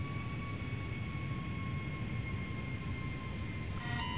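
Boeing 757 jet engines spooling up in Flight Simulator X, a steady loud roar with sustained whining tones throughout, alone with no talk.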